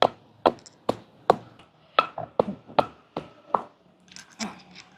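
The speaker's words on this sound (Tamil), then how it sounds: "இப்போ பாருங்க, நாங்கள் கொஞ்சம் இடிச்சு எடுத்துட்டோம்" Roasted dried fish is pounded for Jaffna sambal, with about a dozen sharp, close thuds in an uneven rhythm, a few quieter knocks between them and faint clatter near the end.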